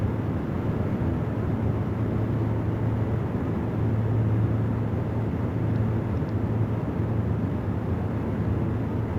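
A Piper Aerostar engine drones at a constant, loud level in a flight simulator: a continuous low hum with a steady tonal rumble and no pauses or talk.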